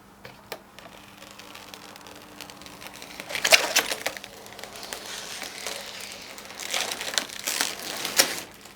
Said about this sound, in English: Let's just take the plastic off because I know some of you like this.